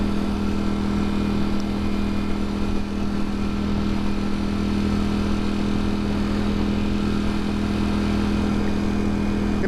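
A motorcycle engine drones steadily while cruising, a constant loud hum at even speed with wind noise, no talk and no change in pace.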